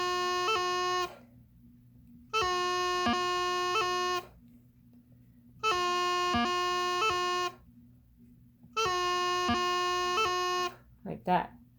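Three separate sustained E notes on a reed or wind instrument, each about two seconds long with a short grace note at its start and silent gaps in between, clear and close.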